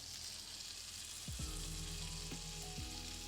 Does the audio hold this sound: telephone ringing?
no